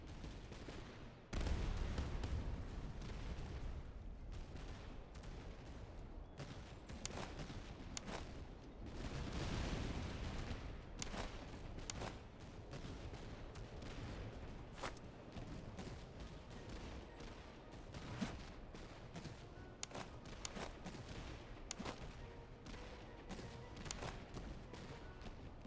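Musket volleys from infantry firing on cavalry in a Commonwealth army battle game, a sharp crackling fusillade followed by scattered shots and battlefield din over a steady background.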